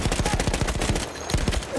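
Rapid machine gun fire in the video game Battlefield 1, a close, loud burst of evenly spaced shots that pauses briefly and then resumes with a few more rounds.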